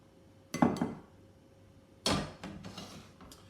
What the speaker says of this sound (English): So we're just going to put the potatoes straight into the bowl.